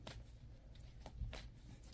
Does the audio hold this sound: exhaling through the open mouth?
no